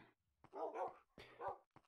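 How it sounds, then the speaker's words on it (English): Dogs barking in a Minecraft-style video game: a few short, quiet barks and yips in two clusters separated by brief silence. "Ignore all the dogs."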